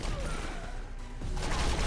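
Charge weapons from the Castathan DLC firing in the video game Defiance, a dense, sustained burst of gunfire that holds steady for about two seconds and swells slightly near the end, with talk faintly mixed underneath.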